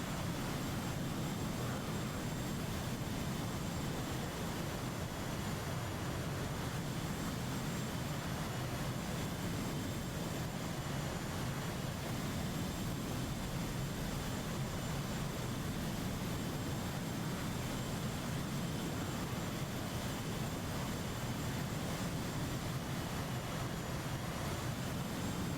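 Aircraft engine drone from a plane touching down on a runway in a multiplayer flight combat game, a steady broadband roar with low rumble holding evenly throughout, no voices.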